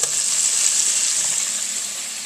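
A first batch of about five buffalo chicken wings sizzles in hot oil, a close, bright, steady frying hiss with no talk.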